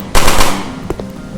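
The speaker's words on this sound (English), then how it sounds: "So first thing you notice is the gun" A rapid, loud burst of gunfire from the player's gun in a Unity first-person shooter demo, several quick overlapping shots followed by a couple of sharper reports as the sound decays.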